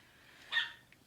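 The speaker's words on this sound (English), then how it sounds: "you're probably hearing one of the puppies" A puppy lets out one brief, faint yip-like bark at a distance, rising out of a quiet indoor background.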